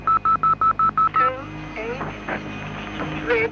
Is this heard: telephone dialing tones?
yes